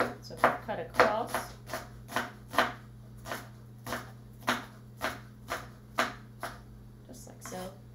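A knife slices across a shallot into circles on a cutting board, giving a steady, evenly spaced series of close, crisp cuts, about a dozen in eight seconds, over a low background hum.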